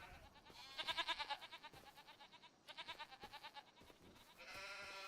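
Goats bleat in Farming Simulator 25 on the Waseca County, Minnesota multiplayer map, a run of quick wavering bleats in a few bursts with a steady farm-game ambience underneath.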